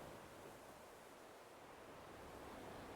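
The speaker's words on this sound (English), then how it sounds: "Listen to all this casual, cozy sounds of the ocean." Steady, broadband ocean surf washing ashore in the video game Animal Crossing, a soft continuous hiss of waves at low volume with no voices over it.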